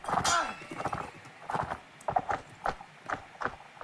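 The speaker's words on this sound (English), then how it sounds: "The horse breathes heavily." A horse in the video game Mount & Blade Warband clip-clops in a steady, close rhythm of hoofbeats, with heavy breathing and a whinny-like snort near the start.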